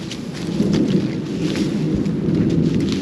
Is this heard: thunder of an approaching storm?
yes